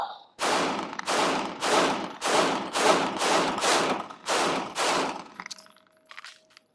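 Nine sharp pistol shots from a Sig Sauer M18 P320 ring out in a steady, evenly spaced string, each loud report trailing off quickly before the next, followed by faint clinks and handling noise.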